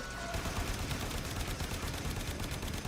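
Dense, continuous gunfire in the video game Warframe, loud and close with rapid overlapping shots forming a steady roar of automatic fire and no pauses.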